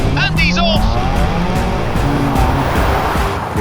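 Race car launching on its Pikes Peak hill climb run, a loud sustained engine roar with rising revs and a brief tire squeal, mixed with crowd noise and voices throughout.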